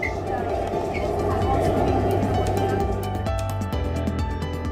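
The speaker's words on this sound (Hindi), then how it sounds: "अब रैपिड रेल की रफ्तार देख लीजिए।" India's first Rapid Rail train runs at speed, a steady loud rumble with a metallic whine and faint clicking rhythm continuing throughout, close by.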